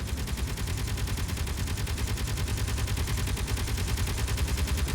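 A turret in Space Engineers fires a steady, rapid stream of shots, loud and unbroken throughout, with a low rumbling undertone.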